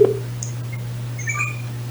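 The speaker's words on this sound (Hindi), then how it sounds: "तो उनको कॉल किया जा रहा है" Phone dialing a call, a short beep followed by a few faint, brief tones and clicks over a steady low hum, no voices.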